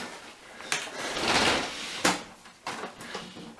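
Side panel of a refurbished Dell Optiplex LGA 775 PC case being opened, with a few sharp metallic clicks and clunks and a sliding scrape in between, close and fairly quiet, no talking.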